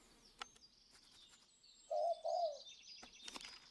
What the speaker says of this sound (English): Collared dove. A largest bird resembling a pigeon, lives in lifelong pairs near people.